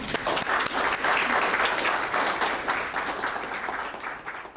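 An audience at a bioethics lecture on cancer breaks into sustained applause to welcome the speaker, dense clapping that swells and then gradually thins out.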